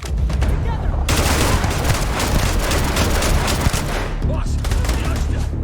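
Dense, loud gunfire keeps up without a break through a sci-fi firefight in Starfield, with rapid overlapping shots and bursts close by and a voice shouting briefly over the din.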